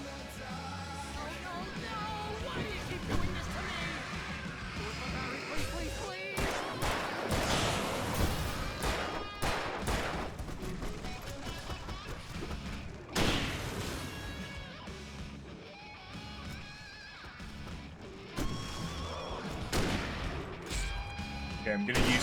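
Hunting rifle gunshots in Alan Wake Remastered on PC ring out repeatedly amid loud game action, sharp blasts at uneven intervals over a busy, dense mix with music and effects.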